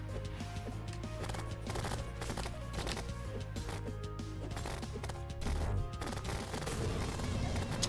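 Rapid bullet fire in Terraria, dense and loud, with quick overlapping shots rattling over busy game sounds and background music for the whole stretch.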